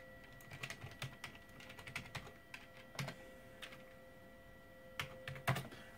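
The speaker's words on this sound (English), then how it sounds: "So you could type in a bank name" Someone types on a computer keyboard while entering data into Quicken on an old Gateway 200 PC, producing quiet, irregular bursts of key clicks with short pauses between them, close and faint, with no talk over them.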